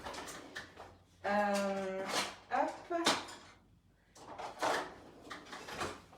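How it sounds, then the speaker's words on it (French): Kitchen drawer opened in a home kitchen, a short sliding rumble with a light clatter of utensils, heard between bursts of nearby talk. "je vais ouvrir le tiroir de ma cuisine"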